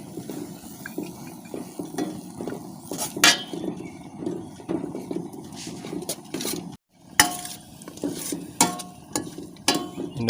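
Spatula scraping and stirring drumstick leaves frying in a pan, with repeated metallic clinks and a soft sizzle, heard close and alone with a brief pause partway through.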